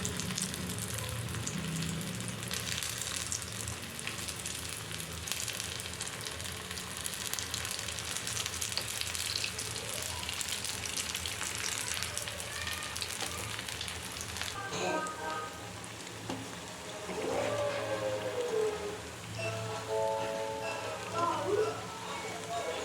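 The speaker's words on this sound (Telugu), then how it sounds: "సో ఇప్పుడు దాన్ని మనం దాంట్లోకి ఫ్రెంచ్ ఫ్రైస్గా వేసేసుకుందాం." Homemade potato french fries sizzle steadily in hot oil, a dense crackling hiss that runs throughout, with a person talking over the frying.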